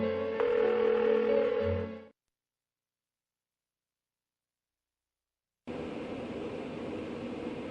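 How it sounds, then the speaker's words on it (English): An unanswered phone call in the Persona 4 video game rings out in two tonal bursts separated by a long dead silence. "Why won't she pick up the phone?"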